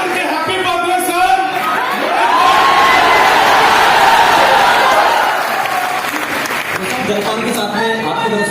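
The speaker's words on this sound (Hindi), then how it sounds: "तो एक बार सभी चिल्ला करके हैप्पी बर्थडे सर।" A crowd at a birthday celebration shouts and cheers loudly together, a dense swell of voices and applause rising mid-way and holding for several seconds before thinning out.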